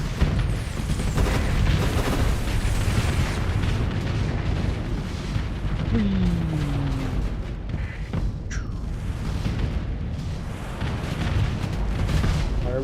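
Spaceship weapons fire in a continuous barrage of booms and blasts during a space battle in Starsector, with a sweeping projectile whine and dense explosive rumble throughout.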